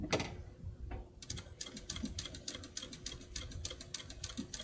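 Titan 8700D industrial sewing machine stitching at about 1,000 stitches a minute, a fast, even rattling chatter that starts after a brief pause and runs steadily, with low background rumble.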